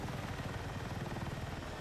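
Steady, continuous rotor thrum and engine drone from a Little Bird helicopter flying in a video game, close and unbroken, a little softer and less sharply chopped.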